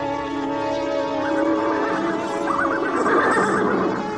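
Horses whinny and neigh repeatedly in a loud, wavering series, the calls rising and trembling over several seconds with no talk.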